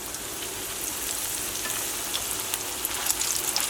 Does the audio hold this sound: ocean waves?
no